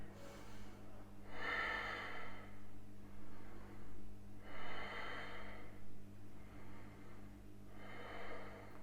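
Slow, deep breaths during a yoga backbend pose, three long airy exhales spaced a few seconds apart, close and soft over a low steady hum.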